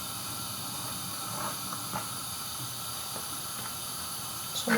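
Thinly sliced onions frying in hot oil in a pan, a steady close hiss and crackle of sizzling that holds throughout at moderate level, with a few soft pops and a louder flare at the end.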